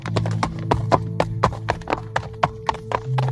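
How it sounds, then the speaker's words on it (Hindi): A soldier riding a white horse, hooves clip-clopping in a steady, brisk rhythm of sharp close knocks over a low constant hum, with no voices. "सामने से एक सिपाही सफेद घोड़े पर सवार होकर उनकी ही तरफ बढ़ने लगता है"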